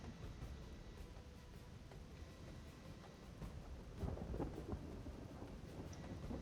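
Steady rain with low rumbling thunder in the video game Third Age Reforged, a faint continuous wash with a slightly louder swell of rolling thunder toward the end.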